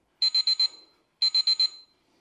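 A workout interval timer sounds two quick sets of four sharp, bright electronic beeps, loud and clean against silence with a short pause between the sets.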